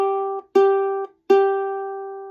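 Ukulele G string plucked three times, each bright note ringing and fading, close and clear with nothing else in the background.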